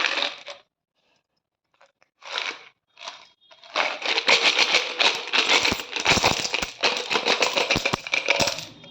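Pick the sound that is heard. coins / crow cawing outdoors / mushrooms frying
coins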